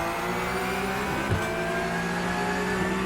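A race car in iRacing revs hard at a standing start, its engine droning loud and continuous with rising tonal whine and a brief jolt partway through.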